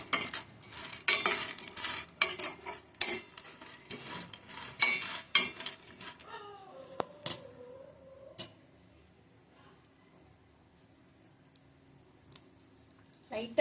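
Seeds being dry-roasted in a pan, with sunflower and pumpkin seeds named: a spoon scrapes and clicks against the metal in quick, busy bursts for several seconds, then gives way to quieter room sound with only a few faint taps.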